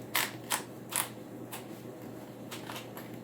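A leather gun belt with a Western-style buckle being put on gives a few sharp metallic clinks and creaks near the start, then softer rustling and scattered clicks, close and alone.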